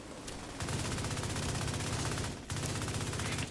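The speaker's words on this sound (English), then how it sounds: "Some shock rounds in the secondary there." Shock rounds from a secondary weapon in a video game fire in two rapid automatic bursts, loud and close, with a brief gap between them.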